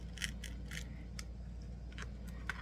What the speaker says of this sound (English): now I'm just going to cut all the way through.